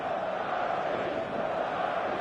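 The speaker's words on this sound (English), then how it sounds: "The stadium is full of noise and energy." Full stadium crowd in the eFootball video game, a constant distant roar with faint chanting, steady and unbroken.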